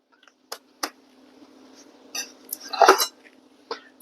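A jalapeño cheddar cornbread is knocked out of a hot pan: a few sharp clanks and thuds of metal at close range, then a louder clattering scrape, with quiet pauses between the knocks.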